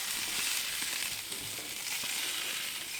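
Hamburger patties fry in a pan with a steady, dense sizzle and faint crackles. It is close and continuous, with no talking.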